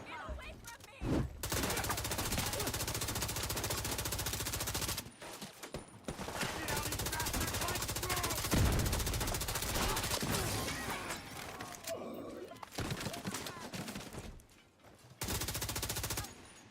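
Rapid bursts of automatic gunfire fill a shooting video game firefight on burning Brooklyn streets, loud and near, with short pauses between volleys and occasional voices under the shots.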